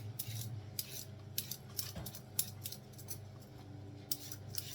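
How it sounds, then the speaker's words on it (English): Carrots being peeled, with a run of quick rhythmic scraping strokes close by, each a short bright rasp, quiet and steady, with a small knock partway through. "Next phase is carrots. Gently give them a peel."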